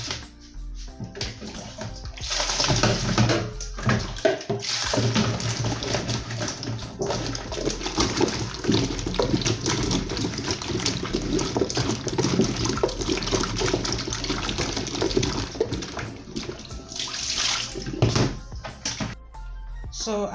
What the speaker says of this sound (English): So as you see, I've peeled the back of the plantain, so I'll wash it very well